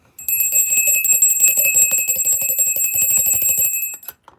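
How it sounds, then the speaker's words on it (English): A bell rings rapidly and continuously for nearly four seconds, a fast metallic trill with a steady bright tone, close and loud, then stops abruptly with a brief echo. "Let's ring that bell, collect."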